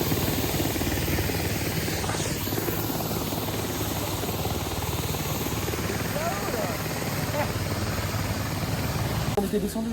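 Helicopter flying overhead during a mountain hike near Chamonix, a loud, steady rotor chop and engine roar filling the whole stretch without a break, with a voice faintly audible beneath it.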